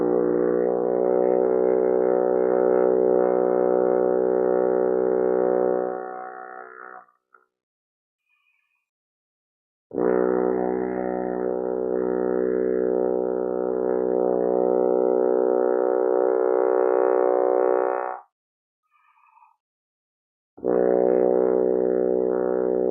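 Long sustained low F sharp pedal tone on a French horn during practice: three steady, loud held notes of several seconds each, separated by short silences, played alone.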